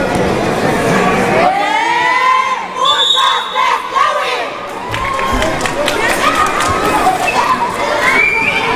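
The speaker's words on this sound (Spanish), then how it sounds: "Ahí está la porra de Santa Cruz y Tlahuitoltepec. Al parecer grita más el equipo del municipio de Tlahuitoltepec." Supporters of the Santa Cruz and Tlahuitoltepec teams cheer at a Copa Mixe regional tournament held at a primary school, loud sustained shouting and chanting from a dense crowd, rising and falling throughout.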